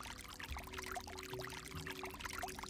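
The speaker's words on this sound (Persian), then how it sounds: "کمی که جلوتر می‌روید صدای نهر آب در جلوی شما توجه" A flowing stream of water in a calm relaxation setting, with a steady, busy burbling rush that continues without break, close and moderately soft.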